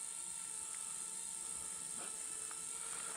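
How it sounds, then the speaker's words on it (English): A small drone hovers outdoors in a forest at sunset, giving a steady, high-pitched whine and hiss that holds at the same level from start to finish. "This drone hovers pretty well."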